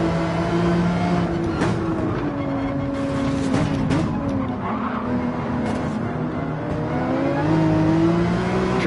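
Race car tyres skid and squeal over a continuous engine drone in Gran Turismo 7, loud and close, with the engine pitch rising and falling as the car slides.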